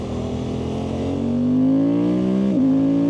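A Suzuki GSX-8R motorcycle pulls up through the gears, its engine note climbing steadily, then dips sharply at a shift before settling into a higher gear. The engine is loud and close, with no voices.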